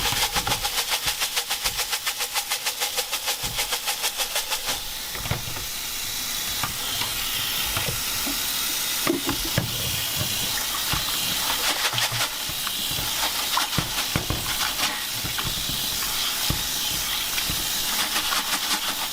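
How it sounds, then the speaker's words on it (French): Pozzolana being dunked and shaken in a bucket of water, a steady gritty sloshing hiss that churns on and on with repeated rhythmic agitation, close and fairly loud, no voices. "je trempe dedans et je secoue et on fait ça je sais pas combien de fois"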